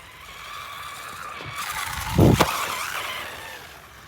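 An AM-X12 1/12 scale 4wd RC race buggy whines past with a steady electric motor buzz, rising to a loud close pass with a brief skid-like rush before fading again.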